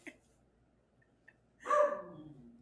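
A dog growls once near the end, a close, brief, rough rumble after a mostly quiet stretch with a few faint small sounds.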